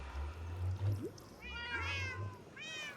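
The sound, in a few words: cats meowing in Minecraft video game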